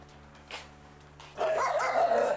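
A Pungsan dog barks fiercely at another dog at home, a single bark early and then a loud, sustained run of rough barking and growling up close in the second half.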